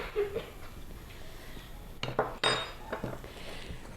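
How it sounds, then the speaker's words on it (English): Bannock dough of flour, baking powder and salt being mixed in a bowl, with scattered scrapes and a couple of sharper knocks of utensil against the bowl, close and moderately loud, no talking. "So you mix this up."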